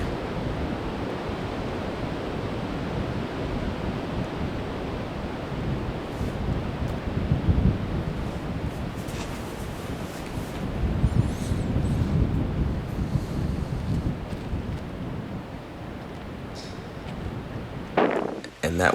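Strong, steady wind roars across the microphone on an open disc golf course, a continuous broadband rush that swells and eases slightly, with a brief clatter at the end.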